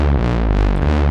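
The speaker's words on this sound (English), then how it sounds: "we really like the Mother 32 for bass lines, right? Because it is a monophonic synth." A Moog Mother 32 monophonic analog synthesizer plays a thick, buzzing low bass line, one note at a time, loud and sustained with slight pitch shifts and no voices.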